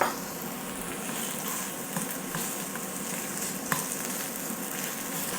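Two tablespoons of red curry paste frying over low heat in a pan for a Thai red duck curry, a steady close sizzle with occasional soft crackles and stirring clicks throughout, no voices.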